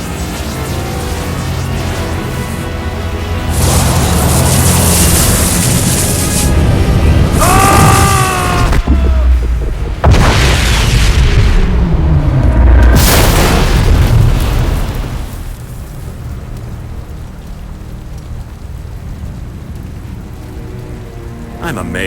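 A boom tube destabilizes and explodes in the fighting game Mortal Kombat vs DC Universe. Loud, crackling, roaring blasts swell in waves, with sharp whooshing bursts in the middle, then fade to a low hiss.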